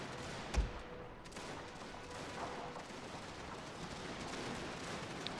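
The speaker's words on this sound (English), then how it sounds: "they are starting to fire at us" Defenders' gunfire in a strategy video game siege, a sharp nearby report followed by scattered distant crackling shots over a constant low battle rumble, no speech.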